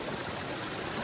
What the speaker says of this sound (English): And notice this water just coming out of a hole here.